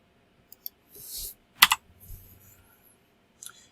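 A few scattered clicks and short bursts of keys on a computer keyboard as a file name is typed, quiet and close, with gaps of silence between.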